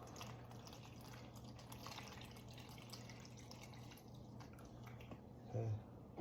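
Liquid feed trickles steadily into a hanging gravity feeding bag, a soft continuous drip-and-pour hiss with a low steady hum beneath, ending in a brief louder gurgle.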